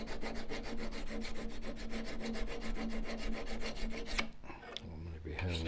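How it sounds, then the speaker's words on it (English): A woodturning tool is honed by hand with a steady back-and-forth rasping rub, rapid regular strokes for about four seconds before a pause and a few slower scrapes. "the easiest way of doing that is really to hone the side of the tool, or the top in this case"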